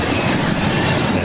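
A train passes along railway tracks close by, a loud, dense, continuous rumble and rattle of wheels on rails with no pauses.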